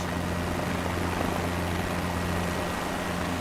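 A helicopter in a flight-simulation career mode hovers with a steady, loud, dense rotor and engine roar that holds constant throughout, with no talk.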